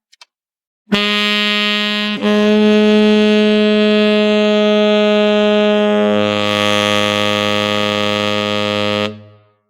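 A loud, buzzy saxophone note held for several seconds, shifting down and settling on a deep low B-flat before cutting off.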